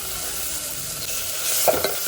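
Chopped tomatoes and finely diced carrots fry and sizzle in a hot pan, a steady broadband hiss with a couple of brief stirring scrapes near the end, close and alone without speech.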